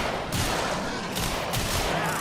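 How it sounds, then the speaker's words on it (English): Dense video-game gunfire rattles continuously in rapid, overlapping volleys from a player defending a balcony, steady and loud throughout without pause. "I'm just standing here shooting everything that comes up this balcony"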